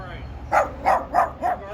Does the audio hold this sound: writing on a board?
no